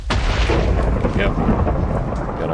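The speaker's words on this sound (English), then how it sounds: "But there is currently a thunderstorm." Thunder rumbles loudly and continuously through a Minecraft thunderstorm, a deep, dense roll with rain hiss filling the whole stretch.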